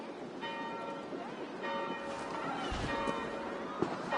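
Chapel bells ringing in Assassin's Creed Valhalla, steady sustained tolling at moderate distance blended with ambient game noise and footsteps, with a voice speaking partway through.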